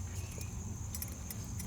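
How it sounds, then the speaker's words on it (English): Original main keys of a 1985 Toyota Celica GTS Turbo Coupe jangling, a short burst of bright metallic clinks held close, over a steady low hum. "These are the original main keys."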